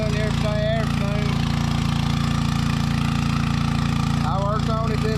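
Gasoline engine of a water pump that keeps cutting out after running a while, droning loud and steady at idle throughout, with a voice talking over it at moments.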